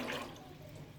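Water pouring steadily into an open-mouthed cooking pot on a stove, a brief, close splashing rush that fades slightly toward the end.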